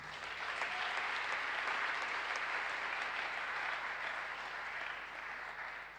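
A church congregation at a worship service applauds steadily, a dense, sustained wash of clapping with some cheering that holds for several seconds before easing slightly.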